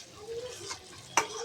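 A spoon stirs masala mushroom curry with coriander and mint in a pot on the stove, soft scraping under a low simmer, ending with two sharp metallic clinks against the pot.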